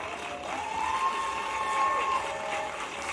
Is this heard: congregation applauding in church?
yes